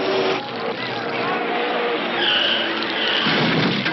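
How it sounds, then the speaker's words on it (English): A race car crashes on a track in the video game Rambo: The Force of Freedom, heard as a steady roar of engine noise with tire skidding and a harsh screech midway, continuous and loud. "Oh, there's a crash on the track."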